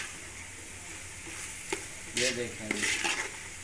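Bitter gourd and onion karela sabzi sizzling in a pan, a low steady fry broken by louder bursts of scraping and stirring, with a voice speaking briefly over it.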